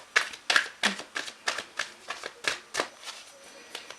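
Tarot cards handled and laid out on a surface, a steady series of about a dozen crisp slaps and flicks spaced roughly every third of a second, close and clear with no talking.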